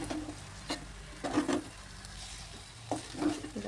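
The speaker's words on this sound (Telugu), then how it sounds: "రైస్ అడుగు నుంచి కలుపుకోవాలి." A spoon scrapes through mutton biryani rice in a pot, stirring from the bottom, making a few soft, irregular scraping strokes close up with no talk.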